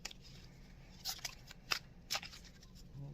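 Playing cards being shuffled at close range, a few quiet, crisp riffling bursts separated by short pauses.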